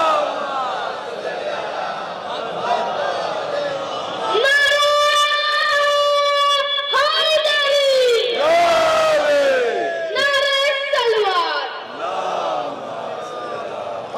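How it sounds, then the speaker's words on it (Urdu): A large crowd at a Shia azadari gathering recites salawat loudly in unison. Their voices rise together in sustained, chant-like bursts that swell and fade over several seconds. "ایک بلند ترین صلوات پڑھے سب لوگ۔"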